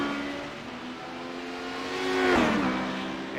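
Race cars in a sports car series weaving through slower class traffic, engines droning with a rising, sweeping pass as one car closes in and goes by with a falling pitch.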